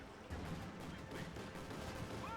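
Gunfire in Company of Heroes 2, with a Panzer II and a .50 cal machine gun in the fight: dense, continuous crackling shots and distant battle noise blend into a steady wash at moderate level.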